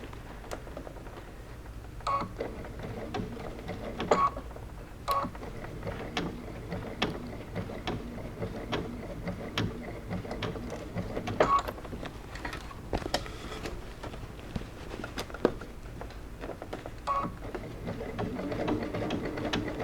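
A sewing machine stitching the seam of a fabric bucket hat, its rapid mechanical chatter coming in uneven bursts with short pauses and sharp clicks between runs, close and fairly loud, no voices.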